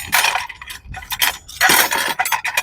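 Metal tongs are picked up and handled among other survival gear, producing a string of bright, irregular clinks and scrapes with short pauses between bursts, fairly close and loud.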